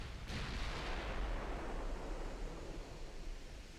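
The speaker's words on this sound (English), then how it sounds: "And broadside to a couple of 19-inch guns" A broadside from 19-inch naval guns in Ultimate Admiral: Dreadnoughts lands as a heavy, rumbling blast that swells and then fades into a long, noisy roar, with no voices over it.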